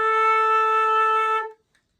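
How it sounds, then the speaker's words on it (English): A single sustained A note rings out clean and steady for about a second and a half, then stops abruptly into silence, with no other sounds around it. "our first note that we play is going to be an A"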